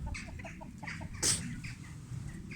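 A backyard rooster clucks in a string of short, close calls over steady low background noise, with one brief louder burst in the middle and no talking.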